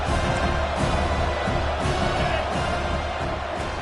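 A football stadium crowd in a tough environment for visiting teams makes a constant roar of cheering and murmur, sustained and loud from start to finish.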